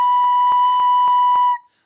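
A recorder sounds a steady, clear B note for about a second and a half, with soft regular ticks or beats running underneath before the note stops cleanly.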